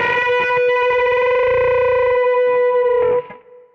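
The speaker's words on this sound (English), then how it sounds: "if you overdo a bend, you'll hear that beating come back in" Distorted electric guitar plays a unison bend on the third string against a steady B string, a sustained bright chord with wavering beating between the two notes, loud and alone, cut off abruptly near the end.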